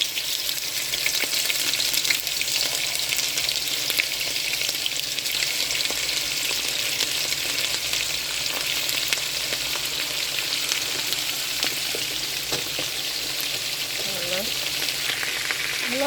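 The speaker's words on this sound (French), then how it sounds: "À présent, je vais faire revenir notre poisson salé" Salted fish frying in hot peanut oil, a loud, dense, continuous sizzle and crackle that holds steady throughout, close up, with occasional stirring and no talking.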